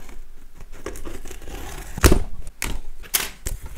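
A cardboard parcel box holding a Gan 562 M puzzle cube being torn and pried open up close, with scattered crinkling, scraping and sharp tearing bursts; no one speaks.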